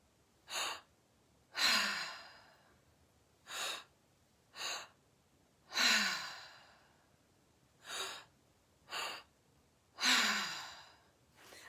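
Deep breaths during a breathwork meditation, drawn in and released in a slow rhythm, with short inhales alternating with longer, heavier sighing exhales, close and clear with no talking.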